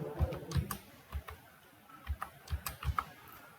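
Someone types a school UDISE code on a computer keyboard: a dozen or so crisp, close keystrokes in an uneven rhythm, grouped in small bursts with short pauses and no voices.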